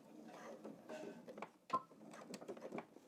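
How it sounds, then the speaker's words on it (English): A sewing machine runs a straight seam up a leg of pleated pants, giving quiet, uneven mechanical whirring and clicking with a sharper clack partway through, close by and with no voices. "I'm going to stitch all the way up following my stitching guide all the way up to the top"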